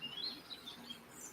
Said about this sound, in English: listen to the birds. Can you hear the birds?